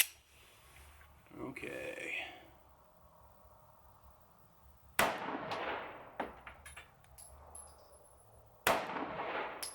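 A Sig Sauer P938 pistol fires three shots at an outdoor range, each a sharp loud crack several seconds apart with ringing decay. A person speaks briefly before the first shot.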